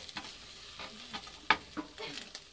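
Small bits of bacon frying in a pan at the start of cooking rice, soft crackling sizzle with scattered sharp pops and stirring scrapes, quiet and close.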